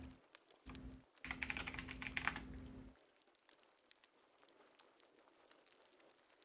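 Fast, close clatter of keys on a computer keyboard during a typing race. A dense burst of typing is followed by lighter, scattered keystrokes, with a low hum early on and no speech.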